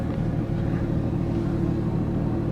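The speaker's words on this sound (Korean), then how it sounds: "스포츠만 하더라도 지금 엔진이 굉장히 좀 신경질적인 반응, 거친 반응을 느낄 수가 있는데" A Porsche 911 GT3 of the 992 generation in sport drive mode gives off a steady, deep engine rumble heard from inside the car, even and unbroken, with no voices over it.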